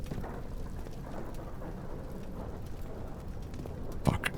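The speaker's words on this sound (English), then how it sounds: "that's thunder" Deep rolling thunder rumbles steadily under a dense hiss of rain in the horror video game Amnesia, continuous for several seconds with a slightly louder swell near the end and no one talking.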